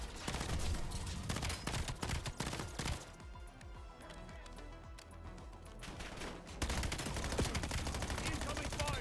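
Heavy gunfire fills a Call of Duty: Black Ops 7 match: loud, dense bursts of automatic fire and explosions, briefly thinning in the middle before surging again, with game audio throughout.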